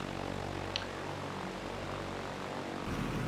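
A2A Cessna 172 propeller engine in the P3Dv5 flight simulator, taxiing at Innsbruck: a steady, fairly loud drone with a low hum that holds evenly throughout, no voices over it.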